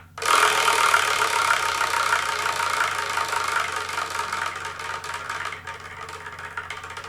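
A selection wheel spins with a loud, dense whirring rattle that starts strong and gradually thins out, breaking into slower clicking ticks as it winds down.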